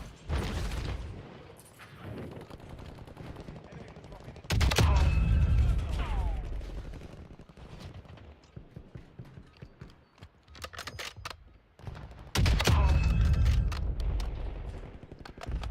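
Gunshots in Call of Duty Warzone, two loud sharp reports several seconds apart, each followed by mechanical reloading clicks, with quieter game noise between.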